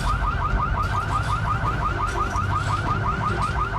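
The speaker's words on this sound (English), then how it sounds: "A fucking car alarm." A car alarm in Project Zomboid whoops in a fast, regular repeating cycle, loud and unbroken over a low rumbling game background.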